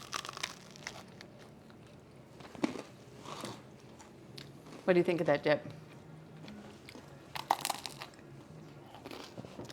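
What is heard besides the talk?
crunch of biting sourdough crostini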